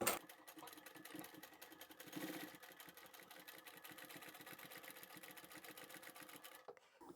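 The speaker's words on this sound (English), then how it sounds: "So I'll start sewing here with a back stitch, and then I'll continue toward the end." A sewing machine stitches steadily along the side seam of a zippered bag, starting with a back stitch, producing a fast, even mechanical chatter close by that stops abruptly at the end.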